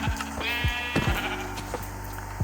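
A sheep in a video game bleats in a quick series of wavering calls, with clicks and faint game sounds underneath.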